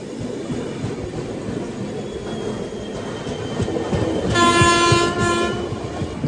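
Island Express train bound for Kanyakumari arriving at a station: rumbling wheels and clatter build steadily, then a loud horn blares for about a second near the end, close by.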